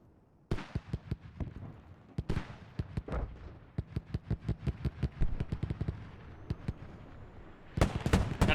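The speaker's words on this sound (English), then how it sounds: "Mortars getting launched right on top of Raja's position" Mortar rounds and gunfire in a military shooter, a dense series of sharp distant cracks and thuds in irregular bursts, some clustered rapidly, others spaced apart, over a quiet background.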